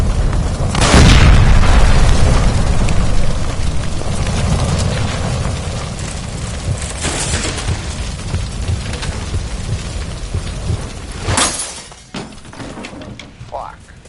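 A gas line blows up in the video game L.A. Noire: a loud, close boom with a deep rumbling roar that slowly fades over several seconds, then a second sharp blast, with voices heard in the game.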